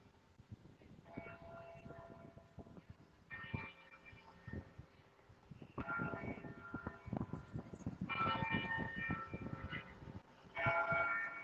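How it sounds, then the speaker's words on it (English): The Old City Hall clock tower rings a series of chimes at roughly even intervals, each tone ringing on and fading, heard at a distance over low outdoor city ambience. "This building has been chiming since the beginning of its time"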